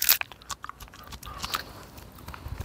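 Close, wet chewing and biting on a medicinal plant leaf, with irregular crunchy mouth sounds that start sharp and then soften into quieter mastication.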